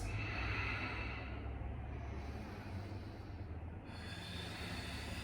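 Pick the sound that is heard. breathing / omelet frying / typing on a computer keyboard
breathing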